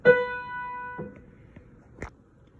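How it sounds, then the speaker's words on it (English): A single piano note, B, rings out and slowly fades, followed by a few soft knocks and clicks in the quiet afterward. "This tells you that this is the note B, which on the piano sounds like this."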